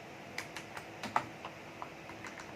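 Keys clack on a computer keyboard as code is typed, about a dozen distinct, fairly soft keystrokes in an uneven rhythm, close by with no voices.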